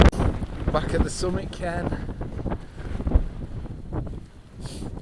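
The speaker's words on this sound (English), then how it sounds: "It's almost gale force wind now." Near-gale wind roars across a mountain summit in the Carneddau, buffeting the microphone in loud, gusty surges while someone speaks over it.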